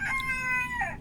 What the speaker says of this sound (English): Yeah, cock-a-doodle-doo.